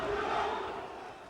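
A large crowd at a kickboxing fight roars as one in a broad, sustained swell that fades slightly toward the end.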